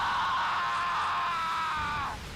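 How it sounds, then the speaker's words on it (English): A drawn-out, high-pitched scream in the WWII flight combat game Blazing Angels, sustained and fairly loud for about two seconds before cutting off, with no talk over it. "That was the most like blood-curdling scream I think I heard yet"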